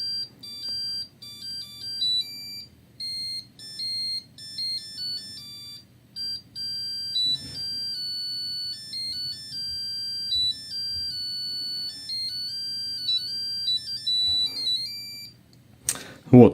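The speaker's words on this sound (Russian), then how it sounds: "Вот загорелась зеленая лампочка, и пойдет сейчас музыка, что аккумулятор заряжен" A TPCELL 18V battery charger plays a thin electronic beeping melody of steady high tones once the battery is fully charged, running for about fifteen seconds before a brief clatter at the end.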